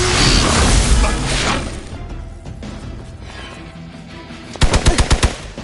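Gunfire in the video game Midnight Suns, with a noisy whooshing buildup followed by a rapid burst of about six sharp, loud shots near the end.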